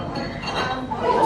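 Glasses clink together at a wedding toast, a bright ringing chime of several glasses touching at once, heard close amid a murmuring crowd of guests.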